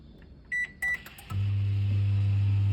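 An oven control panel being set to 100 degrees C gives two short electronic beeps, then a steady low hum as the gluten-free loaf oven starts heating, close and clear with no talk.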